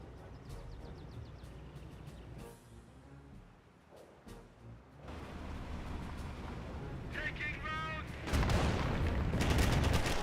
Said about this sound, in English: Flame Engineers firing away against the Panzergrenadiers.